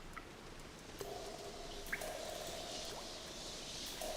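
Water dripping in The Lord of the Rings Online, sparse quiet drips and faint plinks over a steady low ambient hiss, with no voices.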